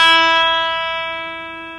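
A single E note rings out on an Ibanez PGM 700 electric guitar, a clean sustained tone with a sharp pick attack that slowly decays over nearly two seconds, heard alone.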